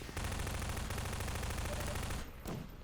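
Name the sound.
gunfire shooting enemies in Half-Life video game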